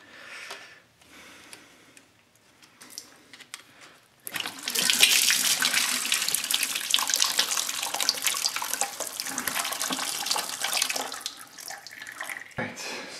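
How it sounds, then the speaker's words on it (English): Fluid from a 2004 ATK Intimidator motorcycle pours into a bucket, a steady splashing rush that starts abruptly after a few quiet seconds and runs on loud and close, then tapers near the end. "Get a bucket here. Let's see if we can just drain this stuff out."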